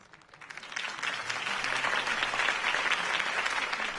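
A crowd applauds after a campaign speech in Batman: The Telltale Series; the clapping swells from a quiet start into steady, dense applause that carries on to the end.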